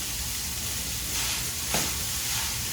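Tofu taco filling sizzles steadily in a hot pan, a loud continuous crackling hiss with a brief stir in the middle and no talk.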